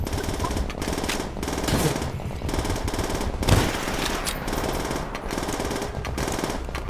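Sustained rapid gunfire in the World War II shooter Call of Duty: World at War, with dense, overlapping machine-gun bursts and occasional louder shots that continue without pause.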